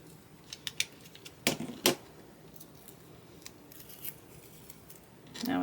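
Sharp cuts and snips as a strip of tape is sliced lengthwise by eye, no ruler, while finishing a framed cross stitch; a few close, crisp clicks build to two louder slices, then quieter handling sounds.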